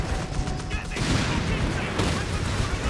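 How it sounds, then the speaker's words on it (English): A 17-pounder anti-tank gun firing in the World War II strategy game Company of Heroes 3, sharp booming shots amid battle noise and clatter, with commentary talking over the action. "We got the 17-pounder gun lining up here."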